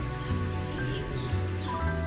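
Rain falling on open grassland, a dense, steady patter with no pauses or voices.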